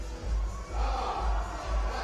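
Spectators at the Bloco Masters 2016 climbing competition finals cheer and shout together, a loud sustained crowd roar that swells in pulsing waves.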